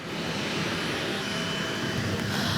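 The Garuda Indonesia 1 aircraft takes off from Orly Airport in Paris with a loud, steady engine roar and rushing air, continuous and broadband, with no speech.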